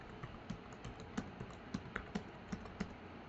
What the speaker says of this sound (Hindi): अब आप टाइपिंग स्टार्ट करना शुरू कर देंगे